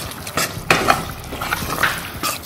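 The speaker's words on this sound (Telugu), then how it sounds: "ఇలా స్మాష్ చేసుకోండి టమాటోస్" Cooked tomatoes being mashed with a spoon in a pan alongside eggplant, soft squelching stirs and scattered metal scrapes against the pan, close and fairly loud, no talking.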